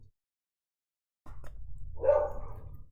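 A dog barks and growls close by in a house, a burst of rough, repeated barking beginning after a second of silence and building into a louder, sustained outburst toward the end.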